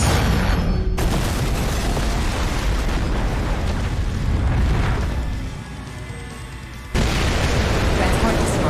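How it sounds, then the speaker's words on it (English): A transport craft is destroyed in a heavy explosion in the mech action game Daemon X Machina, with a loud sustained rumbling blast and debris roar that fades and then surges back abruptly. "Transport destroyed."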